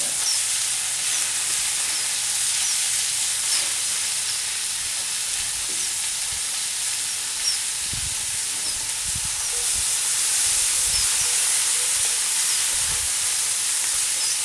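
Onions and celery fry in a Dutch oven with a loud, steady, broadband sizzle that holds throughout, with occasional faint stirring scrapes and no talking.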